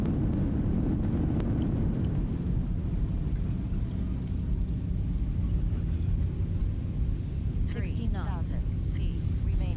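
A simulated Boeing 737's reverse thrust after landing gives a heavy, continuous low rumble with roaring engine noise, a voice speaking briefly over it near the end.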